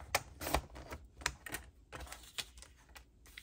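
Paper being trimmed for a trifold craft project, a series of sharp, crisp snips and clicks spaced irregularly, close and fairly quiet, with no talking.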